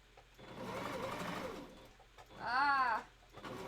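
A sewing machine whirs through fabric for a wolf costume tail in a short burst. A brief warbling, coo-like sound follows, and then a faint mechanical hum remains.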